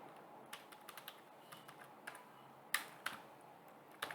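Keystrokes on a computer keyboard, tapped in short irregular bursts of soft clicks with a few sharper, louder presses, close and alone without talk.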